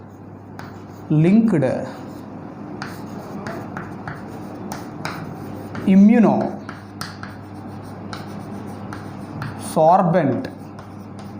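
Marker or chalk writing on a board in a classroom, with soft scratchy strokes running under a teacher's speech and pausing between spoken phrases.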